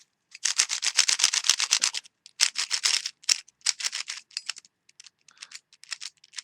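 A dry, unlubricated stock speed cube being turned, giving rapid bursts of clicky plastic clacking in quick runs separated by short pauses, close and crisp with no talking.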